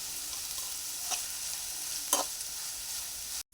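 Onions and green chillies fry with turmeric in hot oil in a pan for an egg fry, a close, steady sizzle broken by two brief stirring scrapes.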